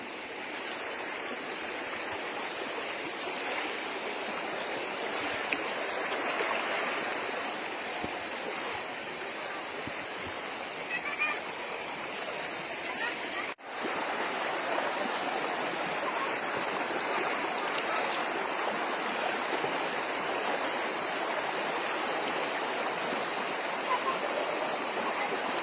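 Small mini waterfalls at Cervantes pour in a continuous broad rush of falling water, steady and fairly close, with one brief dropout midway and no voices.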